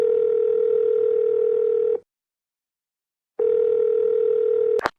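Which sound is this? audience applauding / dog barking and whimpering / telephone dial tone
telephone dial tone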